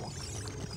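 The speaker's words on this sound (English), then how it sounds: "That is apparently the sound Link makes when he throws fish princesses" In Ocarina of Time, Link tosses Princess Ruto, the Zora fish princess, inside Lord Jabu-Jabu's belly, giving a short watery whoosh of under a second, heard alone.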